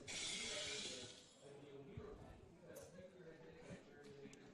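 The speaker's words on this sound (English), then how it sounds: "I think those were sound effects, not actual glass breaking" A loud crash of breaking glass, played as a sound effect at a baseball game, bursts out at the start and fades within about a second. Ballpark ambience and murmuring voices continue afterward.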